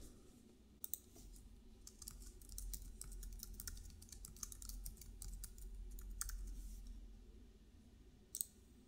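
Quiet clicking keystrokes on a computer keyboard as a password is typed, arriving in irregular short runs with brief pauses and a sharper tap near the end, over a low steady hum.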